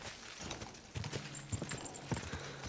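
Horse hooves clip-clop on the ground in a video game set in medieval Bohemia, an irregular series of moderately close hoof strikes over outdoor ambience.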